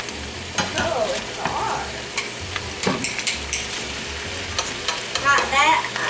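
Vegetables for a Southern stir fry sizzle steadily in a pan while being stirred, with clinks of a utensil against the pan and a brief remark from a woman over the frying.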